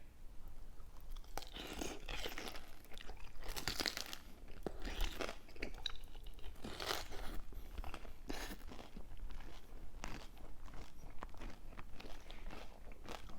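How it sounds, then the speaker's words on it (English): Close, steady chewing and crunching of breaded Korean sweet and sour pork (tangsuyuk) with tough breading, with repeated crisp bites and mouth sounds continuing throughout with no talk. "Breading's a little tough today. Kind of like hard to chew."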